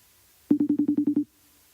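Ringback tone of an outgoing phone call: one short burst of about eight rapid, evenly spaced pulses, close and clear, then silence.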